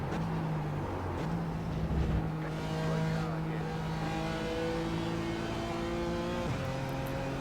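BMW race car in the iRacing sim at Watkins Glen, held flat out: a sustained engine note climbing steadily in pitch through the gears, with a shift near the end, steady and close under a quiet background.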